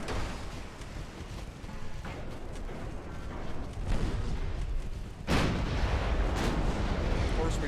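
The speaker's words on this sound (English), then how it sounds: "He's got main guns that are shooting us." Naval main guns firing in the warship game Ultimate Admiral Dreadnoughts, a dense rumbling barrage of booms with a sharper blast partway through, continuous and loud.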